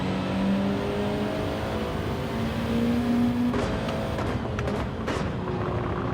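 A fast race car engine in the Gran Turismo 7 video game drones steadily with shifting pitch, then gives way to a few sharp clicks and bursts toward the end.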